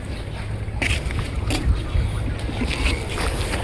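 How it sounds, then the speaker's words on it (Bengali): A sand-carrying cargo ship moves on the Meghna River, its low engine rumble steady beneath wind and water wash, with a few sharper knocks and splashes breaking through. "জাহাজ, বালুর জাহাজ।"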